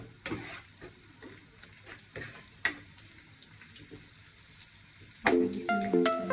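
Garlic and onion sauté in a pan with a crackling sizzle and several sharp clatters of utensil stirring, building to louder scraping and clanking at the end.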